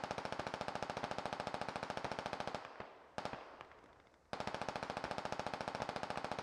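Rapid, sustained automatic gunfire from a military video game, loud and evenly pulsed, broken by a short lull of quieter scattered shots before the steady burst resumes.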